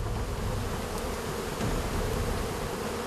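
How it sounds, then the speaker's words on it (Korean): Indonesian honeybees swarming at a nest high in a 20–30 m tree, a dense, continuous buzzing drone that fills the air, loud and close without pause. "주로 20-30m 이상의 높은 나무에 집을 짓는 인도네시아의 꿀벌"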